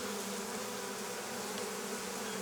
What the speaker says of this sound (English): These are winter bees.